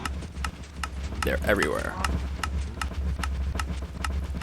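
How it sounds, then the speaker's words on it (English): Crowds of blocky Minecraft cows mill about in a game world, their steady clip-clop footsteps ticking in a regular rhythm under a low hum, while a voice speaks briefly over them. "Cows and cows and cows and cows and cows."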